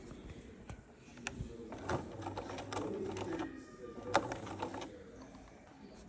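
A home sewing machine stitching fabric for a Simplicity s9755 pattern and locking the stitch, a low mechanical whir with rapid ticking and a few sharper clicks, moderately quiet and close.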